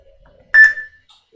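A crazy 8 interval timer gives a single short, clear electronic beep, loud and alone in otherwise near silence.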